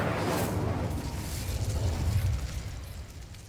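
A Confringo or Incendio spell in Hogwarts Legacy erupts as a dense, loud fiery burst that roars and crackles for a few seconds before easing slightly.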